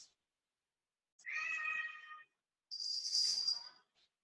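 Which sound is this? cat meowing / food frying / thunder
cat meowing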